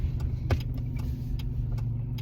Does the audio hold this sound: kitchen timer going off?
no